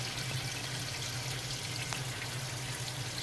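Steady trickling and bubbling water circulating in an amphibian's aquarium tank, a continuous even wash with a low hum underneath and an occasional faint drip.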